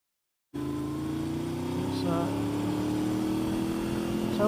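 A car driving along a road, a steady engine hum starting abruptly and holding with a slowly rising tone, heard from inside, with brief faint talk in the background.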